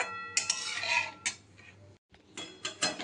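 A spoon clinks and scrapes in a pan of chocolate ice cream mixture made with cocoa powder and cornflour, stirred over a low flame. The clinks come in short, irregular bursts and are fairly quiet, with no voices.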